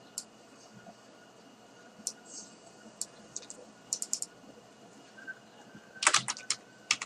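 Soft, close keyboard clicks, sparse and irregular, ending in a short quick flurry of keystrokes, with no one talking.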